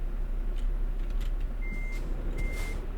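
Truck reversing beeps in Euro Truck Simulator 2, two brief steady tones sounding at a moderate level over a constant low engine rumble, with no talk.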